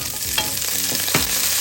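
Sliced pork frying with garlic and onion in a hot pan gives a loud, steady sizzle close up, broken by a few quick stirring scrapes.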